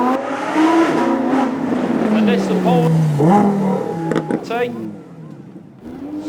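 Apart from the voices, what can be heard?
Audi V10 supercar driving past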